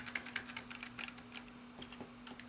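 Quiet, uneven tapping on a computer keyboard while setting the BIOS date on a Phenom II system, a series of light keystrokes with a steady low electrical hum underneath.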